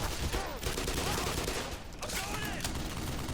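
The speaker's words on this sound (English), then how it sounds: "They just hear like, the giant Browning machine gun firing off in the distance" Heavy Browning machine gun fire in Black Mesa, rattling in dense continuous bursts from a distance under a noisy game soundscape, with a voice murmuring briefly in the mix.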